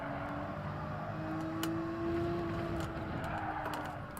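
Porsche race car in Gran Turismo 7 during a short lap time challenge, its engine droning steadily at high revs with a sustained whine and faint tire noise throughout, fairly constant and unbroken.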